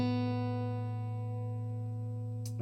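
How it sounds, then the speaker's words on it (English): A single guitar note on the open B string rings out steady and clear, a sustained tone with rich overtones that slowly decays before a brief scrape near the end. "Then we play the open B,"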